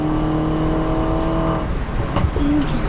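A 2018 Mini Challenge Cooper S race car engine drones steadily near the rev limiter at Brands Hatch in the wet, a close, loud sustained in-car roar that dips and shifts briefly near the end.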